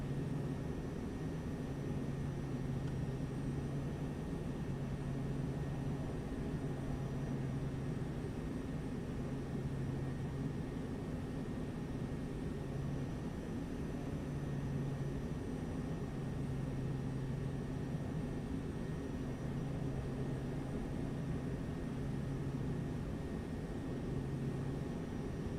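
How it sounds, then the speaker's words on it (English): Piper M600 turboprop engine in Microsoft Flight Simulator 2024 drones steadily throughout, a continuous low hum with a faintly pulsing tone as the airplane maneuvers for final approach, no talking over it. "The airplane is maneuvering for final approach and landing."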